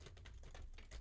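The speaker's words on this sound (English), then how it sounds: "I got to remember not to make this loud noise when I put the cards together" Tarot cards being shuffled and tapped together into a deck, a quick run of crisp clicking snaps and rustles, close and fairly quiet.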